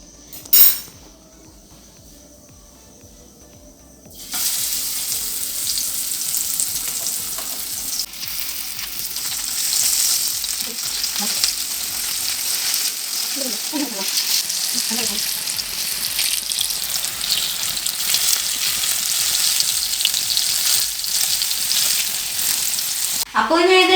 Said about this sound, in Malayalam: ഇനി നമ്മളിതിന് ഫ്രൈ ചെയ്യാനാണ് പോകുന്നത്.